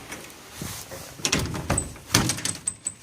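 Front door of a house opening and closing, a thud followed by rattling handle and latch clicks and a firm closing knock, nearby with light footsteps.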